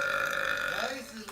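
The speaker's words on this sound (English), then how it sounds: "where's the burp? Where's the burp?" A long, drawn-out burp rolls on for over a second during a casual livestream chat, loud and close, with a tonal, croaking quality that fades toward the end.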